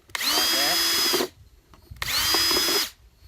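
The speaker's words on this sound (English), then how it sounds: "We'd just drill a few holes in there like that." A small drill fitted with a 1/8 inch bit cuts holes in a plastic jug in two separate loud bursts of roughly a second each, with a steady whine and a short quiet pause between them.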